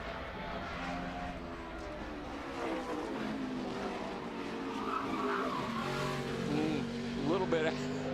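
A NASCAR stock car slides through a corner during 2010 Toyota/Save Mart 350 qualifying at Sonoma, its engine roaring steadily with tire squeal rising near the end, while a commentator talks over it throughout.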